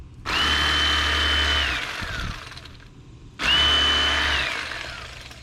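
An electric fillet knife buzzes through a crappie fish in two close, steady runs of about a second and a half each, the motor note bending as the blades work along the bones, with no talking.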